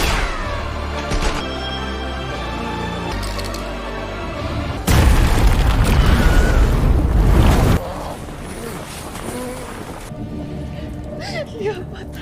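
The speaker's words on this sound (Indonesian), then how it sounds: "Tokyo dapat mengembalikan granat itu sehingga membuat beberapa pasukan Sagasta terluka dan" A grenade blast in a war scene from a heist film, a loud broadband boom bursting in around five seconds and rumbling for a few seconds amid music and sound effects, then fading.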